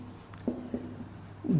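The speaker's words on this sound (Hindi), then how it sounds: "अब मान लीजिए मैं इस तरह लिख दूं कि वह" Chalk or marker scratches across a board in a few short strokes with brief pauses between them, close and clear, ending in a longer stroke.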